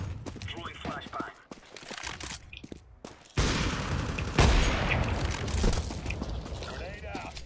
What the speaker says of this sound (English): Grenade. Incendiary. Throwing flashbang.